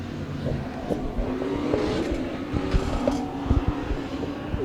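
Race cars roar along the front straightaway at Penn Can Speedway, a loud, steady engine drone with rumbling low-end surges and rough, gritty texture throughout.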